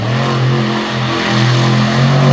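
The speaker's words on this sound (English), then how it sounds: "Drifting donut across the front stretch, off the pavement and into the clay." Monster truck engine roaring loud and close as it drifts a donut across a pavement front stretch into clay, a steady high-revving drone with slight pitch swells throughout, no talk.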